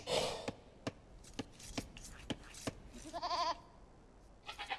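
Sheep bleating in the video game Age of Empires 2, a quavering game-sound bleat near the end, amid a run of sharp clicks and short taps at a steady loose rhythm.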